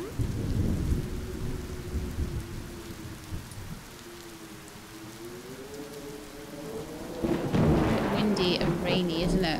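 Steady rain and low rumbling thunder in the Cattails video game fill the scene, with a soft droning tone in the middle and a louder burst of rain and rumble toward the end.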